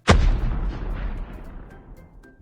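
A single sharp sniper rifle shot in a video game, loud and close, with a long rumbling echo that trails off over two seconds.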